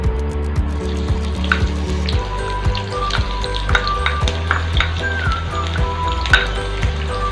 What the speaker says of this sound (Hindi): ऑयल हमारा गरम हो गया है। अभी इस ऑयल में हम ऑनियन ऐड करेंगे।